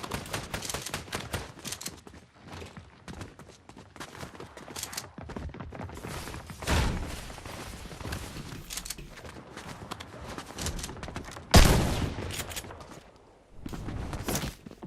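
Shotgun fire in an FPS video game comes as scattered sharp blasts mixed with rapid clatter and footsteps, with one loud shot standing out near the end.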